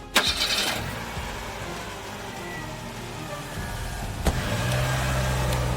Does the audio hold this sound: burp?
no